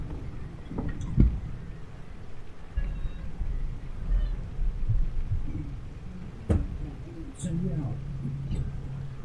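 A pet cat meows a few times, wanting to be let out, amid soft thumps and low background noise.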